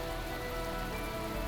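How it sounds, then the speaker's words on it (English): Heavy rain pouring down as a dense, continuous hiss, steady and loud throughout, with no voices. "The merciless rain continued to pour down on me."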